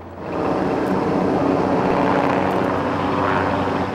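A propeller airplane at Torrance Airport drones loudly and steadily, its engine roar filling the air with no talk over it.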